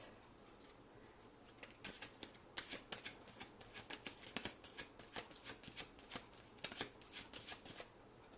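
A deck of advice cards shuffled for a Taurus career and finance reading: quick riffling flicks and taps in irregular bursts, close and fairly quiet, with no one speaking.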